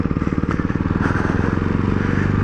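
Ducati Hypermotard 698 Mono single-cylinder motorcycle under way, its engine thumping in a rapid steady pulse, loud and close throughout, with wind rush behind it.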